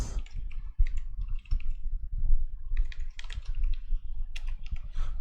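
Rapid typing on a computer keyboard, with quick irregular key clicks and clacks close to the microphone and brief pauses between bursts, no voices.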